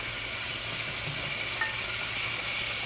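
Shrimp sizzling in butter in a frying pan, a steady dense hiss and crackle that holds even and close throughout, with no one talking.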